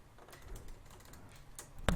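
Short burst of computer keyboard typing, a few soft keystrokes followed by one sharper tap at the end, close and quiet with no voices.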